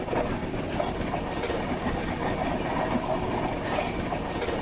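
The Azimabad Express running fast past Naini Junction in Uttar Pradesh, with a steady loud rumble and rhythmic clatter of wheels on rails heard from on board, with occasional faint squeals.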